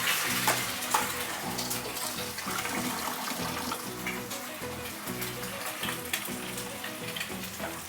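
An egg frying in very, very hot oil, a steady loud sizzle and crackle that runs unbroken throughout, close up with no talk.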